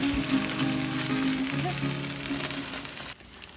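Torrijas frying in a pan of hot oil, a steady close sizzle with faint crackles that breaks off abruptly near the end.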